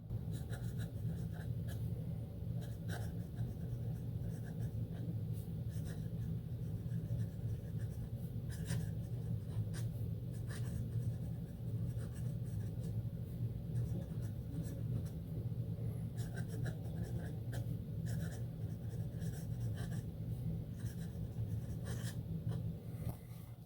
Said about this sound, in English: The sound of sailor nibs.